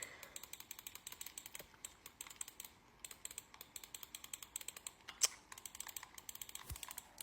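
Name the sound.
fast clicking on a computer while playing a game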